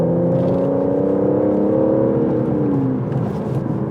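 Aston Martin sports car engine, from a DBS Superleggera or Vanquish, holding a steady loud drone with rising harmonics while driving, close and continuous inside the cabin with a slight dip toward the end.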